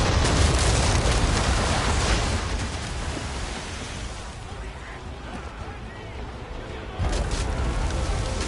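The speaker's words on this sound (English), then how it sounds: "Fire the cannon!" Cannons fire in the video game Assassin's Creed 3 Remastered, a loud broadband blast that decays into a dense rushing roar, then another burst hits near the end, with voices mixed into the noise.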